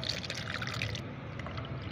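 Homemade banana peel liquid fertilizer is poured through a strainer, a soft continuous trickle and splash of liquid, fairly quiet and close, with the pouring thinning out partway through.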